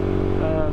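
A 2019 Yamaha YZF-R125 motorcycle engine runs steadily and loudly up close, with a constant droning hum and no pauses, while a voice may be talking over it.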